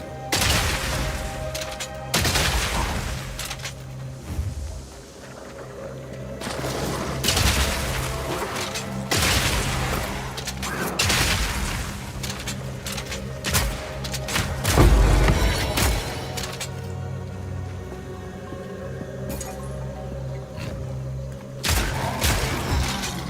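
Kaboom gun firing in a Warhammer 40K Darktide-style shooter, repeated loud booming blasts with heavy thuds and crackling bursts spread through the stretch amid continuous game noise.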